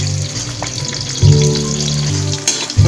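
Ikiam rolls fry in hot oil in a pan, a loud, close, continuous crackling sizzle with bursts of spattering and a low bubbling hum underneath.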